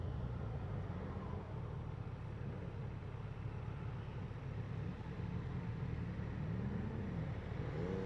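A 2016 Yamaha FJR1300ES motorcycle accelerating, its engine a steady low rumble with rising tones near the end, heard at a moderate distance without speech.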